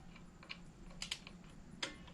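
A torque wrench clicks faintly on the primary cover bolts of a 2018 Harley-Davidson Sport Glide FLSB, a few small, sharp ticks spaced irregularly over a quiet workshop hum.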